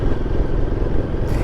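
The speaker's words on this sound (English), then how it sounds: "you can see why I really don't like loud exhaust" A vehicle with a loud exhaust passes close by, its engine a steady, heavy roar that fills the whole moment without letting up, and nobody speaks over it.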